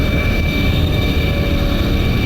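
A steady, loud, unbroken roar comes from an ME262 jet fighter mod in the BeamNG driving game, holding an even tone throughout with no voices.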